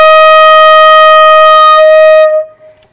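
A flute sustains a single clear, loud D sharp in the second register for about two and a half seconds before cutting off, played alone up close.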